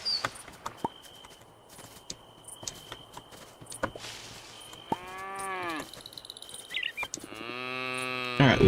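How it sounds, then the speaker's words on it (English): A cow in the video game Moonlight Peaks lets out two drawn-out moos, the second louder, over a quiet background of soft ticks and clicks. "Alright, the cow is happy."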